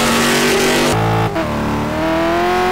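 Lamborghini GT1 race car engine at Sebring in a sim racing game, a loud steady drone that drops abruptly on a downshift near one second, then climbs again as the car accelerates out of the corner.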